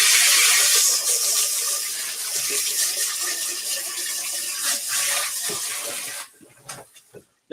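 Tap water runs steadily into a kitchen sink during cake making, a loud continuous hiss and splash that cuts off abruptly near the end, leaving a few faint knocks.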